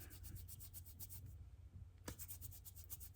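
Wet yarn ends rubbed vigorously between the palms to felt them together, a steady rhythmic brushing close to the ear that pauses briefly and then resumes.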